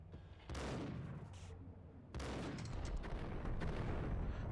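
Gunfire in Max Payne, bursts of loud shots and crackling volleys arriving in two waves, dense and close, continuing to the end.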